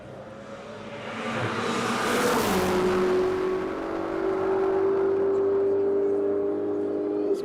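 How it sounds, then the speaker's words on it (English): A Ferrari race car approaches on a top speed run, its engine rising to a loud, sustained high-pitched whine as it nears and passes, holding a steady tone after the peak. "Should be coming into view any second from now in that absolutely beautiful Ferrari."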